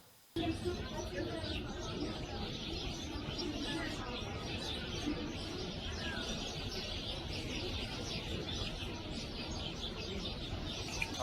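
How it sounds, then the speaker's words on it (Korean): Birds, sparrows among them, chirp and twitter in a continuous busy chorus from a played video, dense and steady throughout, with a faint voice now and then. "이 참새가 좀 걱정이 많은 것 같습니까? 아주 즐겁게 지금 열심히 뭐라고 떠들면서 즐거워하는 것 같습니까?"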